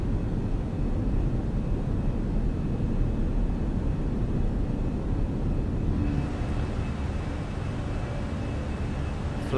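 Fenix A320 airliner engines on takeoff roll in Microsoft Flight Simulator at Valencia, a steady loud broadband roar with constant low rumble and no voices.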